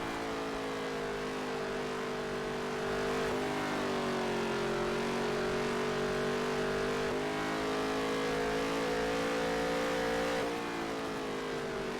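A NASCAR race car engine in the video game NASCAR Heat 3 screams continuously through a qualifying lap, its pitch dipping and climbing again with each gear change, loud and alone with no talk.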